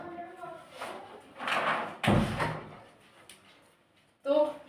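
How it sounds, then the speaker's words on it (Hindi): A door is pushed shut with a solid thud and then locked, with the clunk landing in the middle and a shorter knock near the end, while a person talks nearby. "मैंने दरवाज़ा लॉक कर दिया है"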